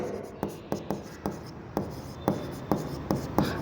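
A pen scratches across paper by hand in regular short strokes, about one every half second, close and clear, while a lecturer writing out a journal entry for a computer purchase talks softly over it.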